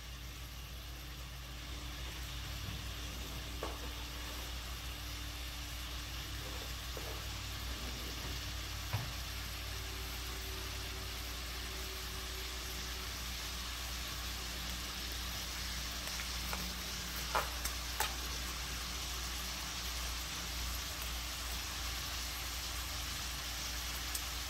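Shrimp frying in a pan over medium heat, a steady broadband sizzle running throughout with a low constant hum beneath and a few faint clicks, no talking.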